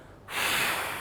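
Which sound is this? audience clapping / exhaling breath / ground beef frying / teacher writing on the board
exhaling breath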